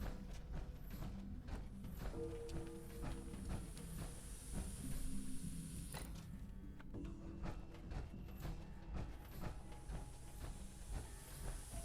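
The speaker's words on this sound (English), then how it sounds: "when you get close, you can hear all the steam and everything escaping" Steam hisses from vents in the Fallout 76 video game, a continuous hiss with mechanical clanks and rumbling that sounds like machinery, moderately loud and without speech.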